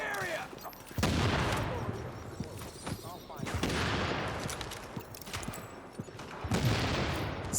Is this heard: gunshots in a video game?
yes